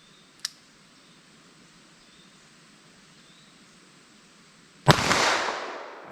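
A snub nose revolver fires a 9mm+P or .357 Magnum round outdoors: one loud, sharp crack with a short ringing decay, preceded by a small faint click.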